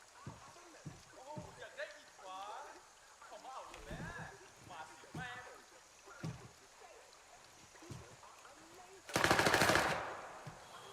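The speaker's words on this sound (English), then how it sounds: "Where is shooting even?" Distant gunfire crackles in the video game Gray Zone Warfare, mostly faint beneath a man's frequent exclamations, then one loud, sharp burst of shots near the end.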